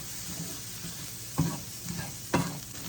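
A good amount of garlic fries in a pan with a soft, steady sizzle, broken by two sharp scraping stirs close by.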